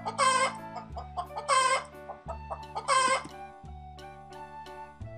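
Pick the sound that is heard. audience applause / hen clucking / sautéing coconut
hen clucking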